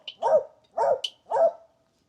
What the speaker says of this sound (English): your dog is really annoying